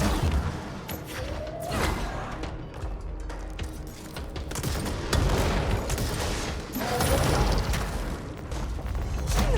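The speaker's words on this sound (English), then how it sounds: "Who's shooting me?" Rapid bursts of gunfire from the video game Control, dense and continuous across the clip with heavy booming impacts and rattling volleys, loud and close throughout.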